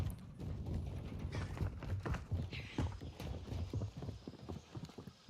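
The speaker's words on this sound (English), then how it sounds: "I hear footsteps all over the place." Soft, rapid footstep thuds patter in a steady rhythm during a Modern Warfare II multiplayer match, fairly faint with light clatter.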